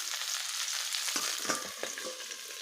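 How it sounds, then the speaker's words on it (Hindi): Okra (bhindi) fries gently over a low flame for dahi bhindi masala, giving a steady, moderate sizzle close by with a few faint stirring scrapes and pops. "और बस इसको थोड़ा सा फ्राई कर देना है"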